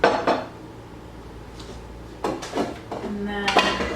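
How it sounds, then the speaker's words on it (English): A piping bag set down into a glass in a home kitchen while baking a birthday cake, giving a few short clinks and rustles separated by quiet gaps. "I just put a piping bag inside of a glass"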